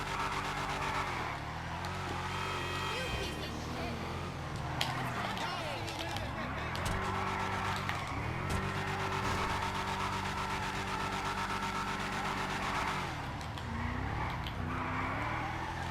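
A Declasse Drift Yosemite truck in the video game GTA Online drives with an engine whose pitch climbs and falls through gear changes and revving, a steady motor drone over the whole stretch.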